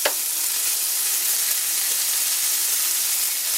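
An egg sizzles steadily in a hot cast iron pan, a loud, even frying hiss that begins with a small crackle as it hits and continues without a break, close by and alone.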